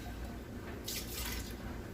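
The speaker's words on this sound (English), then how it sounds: "Let's put these potatoes in water." Potatoes dropped into a pot of water for a Puerto Rican mondongo, giving a short burst of splashing and dripping water near the middle against a steady kitchen background.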